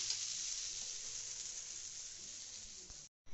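Two onion dosas sizzle steadily on a hot pan in a home kitchen, a soft continuous hiss that cuts out briefly near the end.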